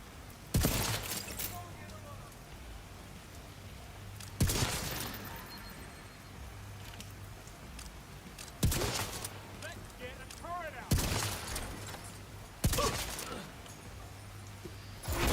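Two turrets trade fire in The Division, sending out loud, separate bursts of gunfire every few seconds, each with a crackling tail, over a quieter game backdrop.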